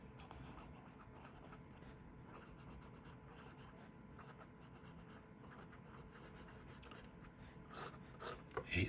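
A Ukrainka fountain pen with a steel nib scratches quietly across paper in soft, continuous strokes, faint and close, with a few louder scrapes near the end.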